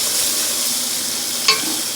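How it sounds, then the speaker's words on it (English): Chopped onions sautéing in a pan for Mexican rice give a steady, close hiss of sizzling, with one brief stir or clink near the end, no voices. "now adding my onions, and I'm going to saute those until they are."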